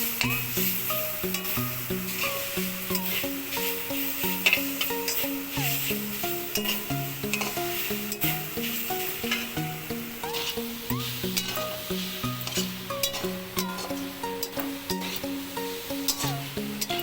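Steady scraping and stirring in a pan over low flame with a soft continuous sizzle, as grated coconut is roasted for laddu, with background music playing throughout.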